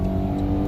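A 2015 Dodge Caravan engine pulling away from a stop, a loud, steady, close drone with a strong low hum and no voices.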